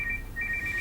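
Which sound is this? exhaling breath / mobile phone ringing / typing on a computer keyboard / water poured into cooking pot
mobile phone ringing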